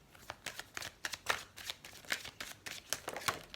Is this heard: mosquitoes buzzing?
no